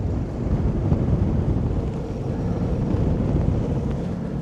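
Wind against tide churns choppy water around a sailboat, with a continuous loud rush of wind buffeting the microphone and waves slapping the hull, steady throughout; no talking.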